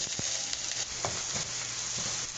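Eggplant pieces frying in a hot pan, giving a loud continuous sizzle and crackle with a few sharper pops, heard alone without voices.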